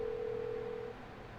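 A telephone rings unanswered in a video game, a steady electronic tone held for about a second before cutting off, faint against a low background hum.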